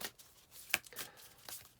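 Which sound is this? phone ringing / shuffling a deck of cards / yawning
shuffling a deck of cards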